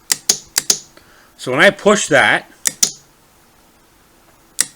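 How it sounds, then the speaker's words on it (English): Switch on a homemade battery-tab spot welder with a hardwood handle clicking sharply and close, a quick run of clicks before and after a short stretch of someone talking, with one last isolated click near the end. "you can hear the clicking"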